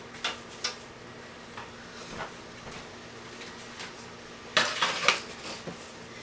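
Light clattering of a herb drying tray being handled, a few scattered soft knocks followed by a brief cluster of louder close taps and rattles near the end, with no talking.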